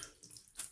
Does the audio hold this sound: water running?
yes